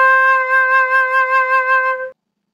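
A single recorder (flauta dulce) sounds the note C as one steady, clear, pure tone held for about two seconds with a gentle wavering before it stops cleanly into silence.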